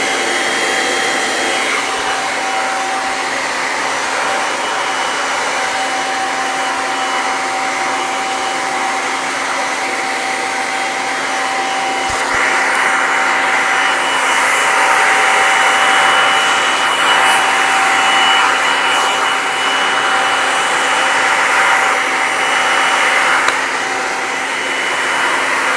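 A Kirby G6 vacuum cleaner set up in compact mode runs close and loud, a constant high whining roar with a steady tonal hum that holds almost unchanged throughout, a slight swell about halfway.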